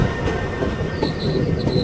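A loaded freight rake rolls past behind twin DG4 diesel locomotives, close and loud, with steady wheel rumble, rhythmic clatter and thin high wheel squeals rising near the end.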